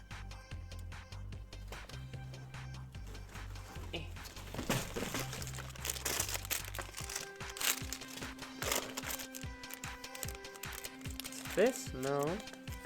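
Small plastic bags holding toy building pieces for a tea shop set crinkle and rustle close by, faint and intermittent, under steady background music.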